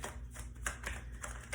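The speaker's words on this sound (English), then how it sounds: "I'm just gonna keep on shuffling the deck" Tarot deck being shuffled by hand, a continuous soft riffling and flapping of cards with small repeated bursts, close and steady, with no talking.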